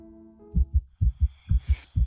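A heartbeat sound effect pounding in steady double thumps, low and close, after a fading low tone, with a faint airy swell near the end.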